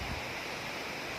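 A waterfall in the Bastar forest pours and gurgles in a steady, broad rush of falling water, faint and even throughout, with no voices.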